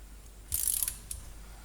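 A torque wrench ratchets faintly while tightening cam bolts during a cam install, giving a quick run of small metallic clicks followed by one more tick in an otherwise quiet space.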